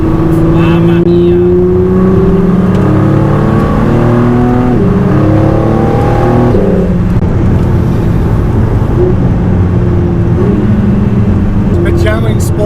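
Ford GT sports car at roughly 280 km/h, its engine a loud, steady high-speed drone with rising and shifting pitch through gear changes, heard close from inside, with wind and road roar and a voice talking over it.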